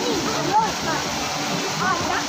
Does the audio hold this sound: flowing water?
yes